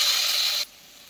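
Vegetables hit hot spiced oil in a pan for Maharashtrian bhogi vegetable curry. A close, bright sizzling hiss lasts about half a second, then cuts off abruptly into near quiet.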